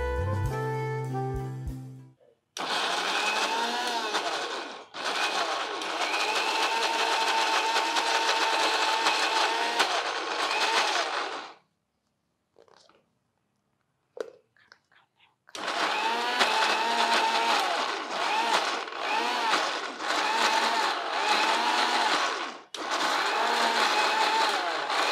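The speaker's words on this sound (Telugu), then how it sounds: "కొంచెం చల్లారనిచ్చి గ్రైండ్ చేద్దాం." A kitchen mixer grinder blends cooled cooked vegetables into a creamy soup, running in loud sustained bursts. A short pause near the middle leaves only small clicks and handling sounds before the motor starts again.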